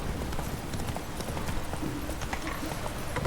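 Clip-clop of horse hooves in the video game The Witcher 3: Wild Hunt, a steady hurried trot that keeps on over a dense, noisy game backdrop.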